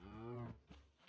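A single cow moos in the Minecraft video game, a short, fairly quiet low call that falls off, followed by softer grunting bursts.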